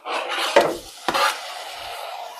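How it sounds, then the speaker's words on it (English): Tofu and cottage cheese for a low-sodium tofu scramble slide into a pan, a soft scraping rasp with two sharper thuds as the food drops in, then a quiet fading sizzle. "So I'm going to add the tofu and the cottage cheese."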